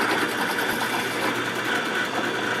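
A boring machine at a saw mill runs steadily, giving a continuous high, buzzing mechanical whir at close range without letup.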